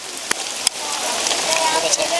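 Rain falling on a pilgrim crowd during the Kanwar Yatra, a steady hiss of drops with a couple of sharp knocks and faint voices in the background.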